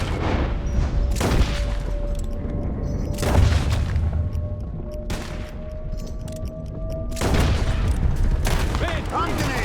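Gunfire rings out in a Red Dead Redemption 2 shootout. Several loud, sharp reports sit over a dense, rumbling game backdrop, with a sustained tone under part of it and voices breaking in now and then.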